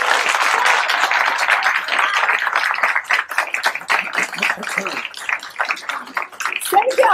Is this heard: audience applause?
yes